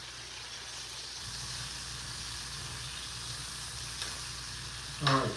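Steak sizzles and fries in a pan with cream, a steady close hiss and crackle throughout, with a brief clatter near the end and no talking.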